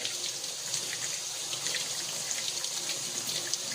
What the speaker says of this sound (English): So what I do is I just take warm water, gently rub it, get that a little warm